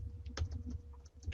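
Fingers typing on a computer keyboard in quiet, scattered keystrokes, soft and fairly close, with a few clearer taps standing out over low background hum.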